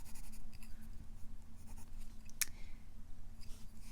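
Steady, close scratching of a Crayola colored pencil shading on paper, a continuous soft rasp with a brief sharp tick partway through; no talking.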